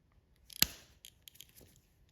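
Pliers snap sharply against the cut rubber of a guitar capo, one crisp close click followed by several faint scraping ticks as the rubber is pulled away, quiet with no voice.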